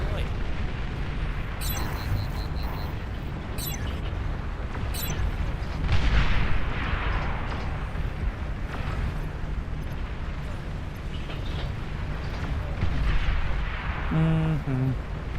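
A commander unit explodes in the RTS game Beyond All Reason amid a massive battle, producing heavy booming blasts that swell around the middle and again near the end over a constant rumble of combat, with a short voice alert at the close.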